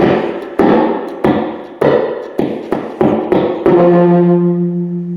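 An old piano under restoration is struck about nine times in a steady sequence, each note a loud close percussive hit with a short decay, the last one ringing out longer with a sustained tone.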